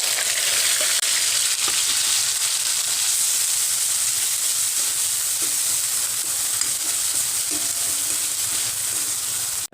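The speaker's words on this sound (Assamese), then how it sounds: "এয়া মোৰ এতিয়া তেল গৰম হৈ গৈছে আৰু এয়া দিছোঁ মই এয়া 5 ফোৰণ" Five-spice, two dried chillies and ground spices fry in hot oil for an Assamese puroi saak charchari. The sizzle is loud, steady and crackling, close up, with no voices.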